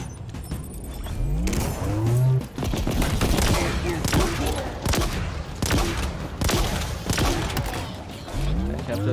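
Dense gunfire and explosions in a large battle in the video game Halo Infinite, with sustained rattling automatic fire, heavy bursts and sweeping mechanical effects filling the whole stretch at a loud, constant level.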